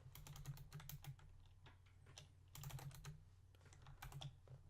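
Rapid typing on a computer keyboard, close and steady, with bursts of clicking keystrokes broken by short pauses, quiet and without talk.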